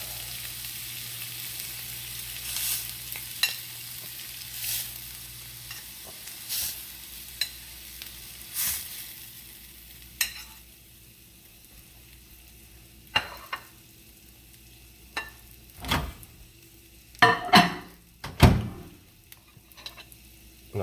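Deer heart sizzles and fries in a pan, a soft steady hiss broken by frequent sharp pops and crackles that grow louder and busier toward the end; no talking.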